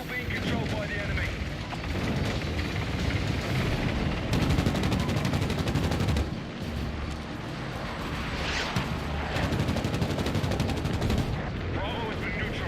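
Video game battle with dense gunfire and machine guns mixed with booming explosions and artillery, loud and continuous throughout, with a voice talking over the fighting.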